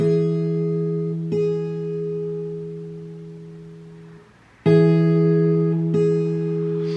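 A guitar's E string plucked twice, each note ringing with clear harmonics and sustaining before slowly fading, the second pluck bright and strong.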